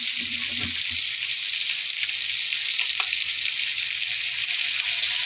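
Vegetables stir-frying with oyster sauce in a pan give a steady, close sizzle and hiss that runs without a break, with a few faint scrapes of stirring and no talking.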